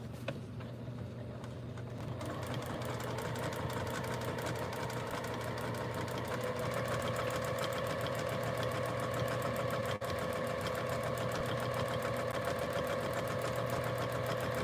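A sewing machine runs continuously while quilting a wall hanging, a steady close mechanical hum with fast rhythmic needle chatter, with a brief pause at the start before sustained stitching, no talk.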